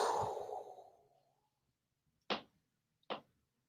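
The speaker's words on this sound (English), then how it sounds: "And then exhale." A slow, steady exhale drawn out over about a second and a half as part of a box breathing exercise, close and soft, fading gradually, followed by two short breathy puffs.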